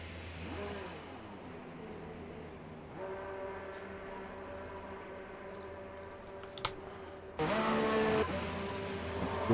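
A Ferrari Formula One car's engine in a racing video game during Chinese GP qualifying, revving with rising and falling harmonic whines, several gear-shift sweeps, then a louder burst of throttle near the end, with no talk.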